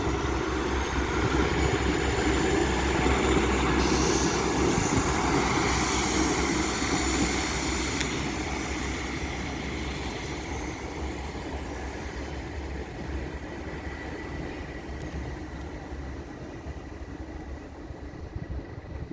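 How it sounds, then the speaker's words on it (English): Northern train 15269, a Sheffield to Adwick service, departing Doncaster station, a loud steady rumble of diesel engine and wheels that slowly eases as it pulls away, heard alone without talk. "And now departing is 15269, working a northern service from Sheffield to Adwick."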